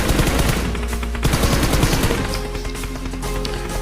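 Rapid bursts of automatic gunfire from PUBG Mobile crackle loudly and continuously during a close-range fight, with no talk over them.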